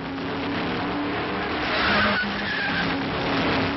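A vintage race car skids with a long, squealing tire scrape before striking a parapet, heard as one continuous harsh, loud rush of noise through a narrow, old-sounding recording.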